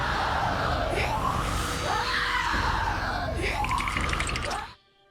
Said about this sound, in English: The Nazgul just fucking shrieking over and over again is genuinely disturbing